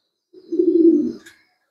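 Single pigeon coo from a racing pigeon loft, a low soft burbling call about a second long, close and clear with no talk over it.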